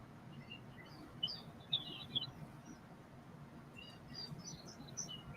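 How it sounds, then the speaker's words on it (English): Catbirds calling outdoors, a few faint, brief chirps and squeaky twitters scattered over a steady low background hum, with short clusters near the start and end. "Where are those birds? Are they by you? Yes. I think they're catbirds. They're very chatty."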